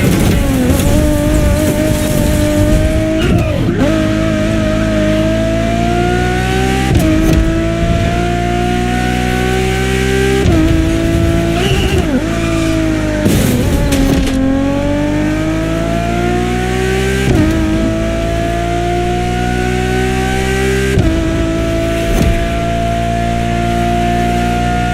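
A Ferrari road-legal Formula One car in The Crew Motorfest screams through repeated upshifts, its high-revving engine climbing in pitch, cutting off sharply at each gear change and climbing again, loud and close.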